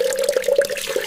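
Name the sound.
washing vegetables with running water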